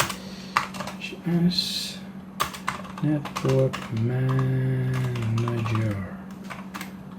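Quick clicking keystrokes on a computer keyboard come in short bursts and scattered taps while someone talks over them.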